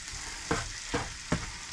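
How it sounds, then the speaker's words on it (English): A flour roux for gravy fries in a pan with a steady sizzle, broken by three evenly spaced scraping stirs and a fourth starting at the end, close and alone. "cook that roux for a few minutes, as much as we can."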